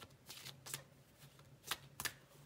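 A deck of cards is shuffled in a few quick riffle bursts, soft and close, with brief pauses between them.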